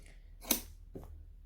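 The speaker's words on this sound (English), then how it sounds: "We're gonna cut that excess off, but make sure you don't cut your pockety bit." A single short snip of scissors cutting excess fabric from a sewing pattern piece, fairly close, followed by a quieter second click of the blades.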